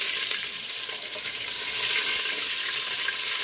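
Cabbage greens sizzle steadily in hot grease with ham chunks, a continuous crackling hiss at close range.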